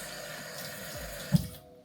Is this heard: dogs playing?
no